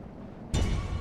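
Ranged units in a Lord of the Rings strategy game open fire on an enemy unit, a sudden loud burst of volleyed shots and impacts that cuts in halfway through and keeps rumbling densely after a quiet lull.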